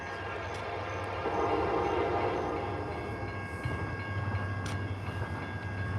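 A CN freight train with locomotives passing at midnight on the Flint Subdivision, a steady low engine drone and rumble of rolling cars, with a distant horn note and faint rail clatter.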